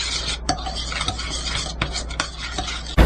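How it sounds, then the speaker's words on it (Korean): Seasoning paste for bellflower root salad, made with gochujang and sugar, is stirred briskly in a bowl, giving continuous scraping swirls with a few sharper clinks of utensil against the dish, close up and without talk. "생채 양념장 미리 섞어서 설탕이 녹도록 만들어"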